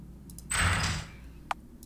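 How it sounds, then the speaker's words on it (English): A spaceship inner door in a video game seals with a half-second hiss of air, followed by a sharp metallic click, set against a low hum. "Sealing inner door."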